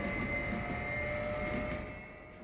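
A train on the Újrét map in Farming Simulator 22 rolls by as a steady, droning rumble with a faint tonal whine. It stays even for a couple of seconds, then eases off slightly, with no voices.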